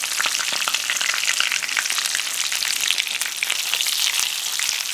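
Breaded chicken breasts frying in a pan of hot oil, a loud, dense, crackling sizzle that runs steadily throughout with tiny pops, close up and without voices.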